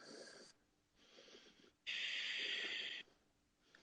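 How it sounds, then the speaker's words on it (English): Deep, slow breathing during a power yoga flow, a long airy exhale followed by a short breath and then a stronger, louder breath held for about a second, all close and alone without talk. "2 more breaths here"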